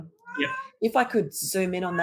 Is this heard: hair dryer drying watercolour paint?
no